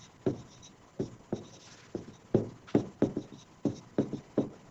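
Handwriting in a classroom scratches out a quick series of strokes, about a dozen sharp taps and scrapes in an uneven rhythm, close and alone without talk.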